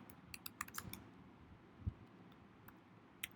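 Code being typed on a computer keyboard: scattered quick key clicks in short bursts, close and fairly quiet, with a pause before a few final taps.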